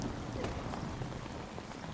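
Steady rain falls on an outdoor scene where a young man walks through the downpour, a dense, even hiss of drops holding constant throughout with no voices.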